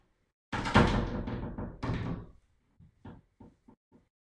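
A door swings shut with a loud, drawn-out wooden rumble and thud close by, followed by a few softer knocks and clicks as it settles, with no talking.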